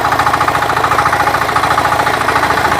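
A Kama 5000 engine runs steadily and loudly with a rapid, even knocking rhythm throughout, close up with no talking.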